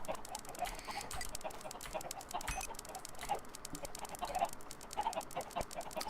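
Chickens cluck softly in the video game Drugcraft, a steady scatter of short, faint clucks over a busy, noisy background with no talking.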